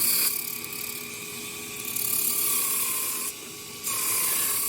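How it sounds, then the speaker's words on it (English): Steady abrasive hiss of a Damascus steel chef knife bar being ground on a belt grinder, loud and continuous with a brief dip in intensity near the end, no voices. "let's get to grinding on that"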